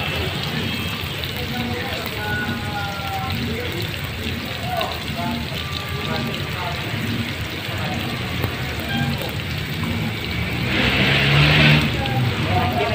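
A wood fire crackles and hisses steadily under a cooking pot, a dense, rain-like bed of pops and sizzles that grows louder near the end.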